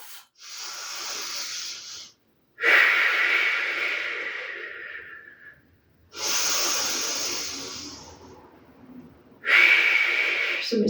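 Deep, forceful breaths during a dynamic yoga flow, a long slow exhale followed by strong rushing inhales and exhales, close and alone with no talk.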